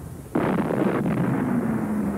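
A submarine's deck gun opens fire on a merchant ship at sea with a sudden loud boom, then a rumbling roar that carries on and fades slowly. Another dull thud follows about a second later.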